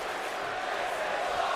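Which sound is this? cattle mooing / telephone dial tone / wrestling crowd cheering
wrestling crowd cheering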